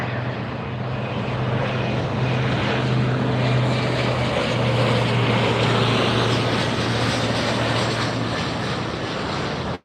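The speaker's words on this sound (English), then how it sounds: "Here's another jet." A jet airplane at LAX airport roars loudly and steadily for the whole stretch, a broad engine rumble with a low humming drone underneath, no talking over it.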